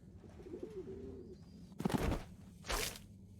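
Bird in the game Harold Halibut, Zoya's pet, cooing softly in a low warble early on, followed by two loud bursts of flapping or squawking, with no talk.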